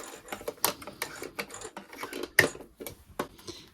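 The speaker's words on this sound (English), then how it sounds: "I'm just going to sew over that section." Sewing machine stitching over a zip section of a dress, quiet uneven clicking and light mechanical taps in short bursts, fairly close with no talking.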